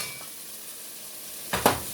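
Onions frying in a pan with a little tamari, stirred around as they soften: a steady faint sizzle, then a brief louder scrape and clatter of stirring near the end.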